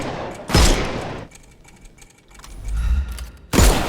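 Gunshots fired at enemies' armour in the game Sherlock Holmes Chapter One, two sharp loud bursts about three seconds apart with quieter rustling and mechanical clatter between them.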